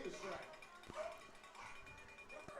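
A man mimics dog noises like a coyote, with yips and short whimpering calls heard over a baseball game broadcast while other voices talk.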